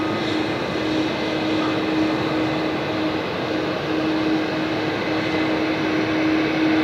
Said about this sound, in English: lovely to see Asiana bringing back the 777s